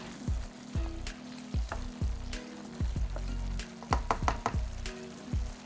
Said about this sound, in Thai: เคี่ยวทุกอย่างนะครับใช้เวลาประมาณสัก 3-5 นาที จนทุกอย่างเนี่ยเริ่มนุ่มแล้วก็สุกดีครับ